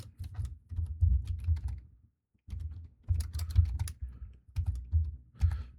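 Bursts of quick clicking on a computer keyboard, close and fairly loud, coming in three or four runs separated by short pauses, with no one talking over them.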